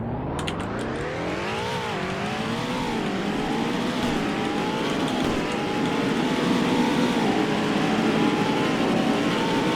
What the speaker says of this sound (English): This car is very fast, the Mustang.